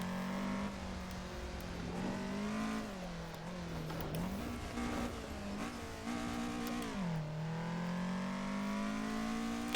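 A race car engine roars through a lap of an iconic track in Assetto Corsa, its pitch rising and dropping with shifts and braking, with faint tyre squeal, loud and steady throughout with no voices.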